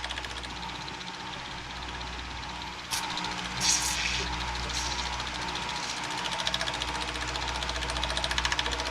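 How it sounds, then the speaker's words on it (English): A boat engine's fuel pump clatters in a fast, steady mechanical rhythm while air is bled from the fuel system, a continuous close ticking drone with a small shift in level partway through. "the fuel pump's making noise"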